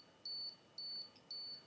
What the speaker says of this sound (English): When you have the self timer on, you'll hear that